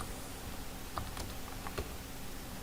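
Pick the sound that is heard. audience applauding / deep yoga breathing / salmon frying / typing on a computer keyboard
typing on a computer keyboard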